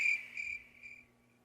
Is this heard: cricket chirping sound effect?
yes